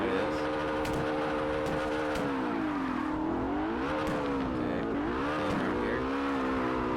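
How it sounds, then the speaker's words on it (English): A car drifts in the CarX racing video game, its engine droning and revving in swooping pitch rises and falls. The sound is continuous and steady in loudness, with a faint voice now and then. "I'm just gonna make a clean drift."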